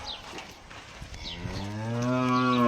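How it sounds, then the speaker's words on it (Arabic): A mixed-breed brown cow at a livestock market lets out a loud, rising moo that swells and holds near the end, over a low background murmur. "دي بقرة خليط برضو يا جماعة"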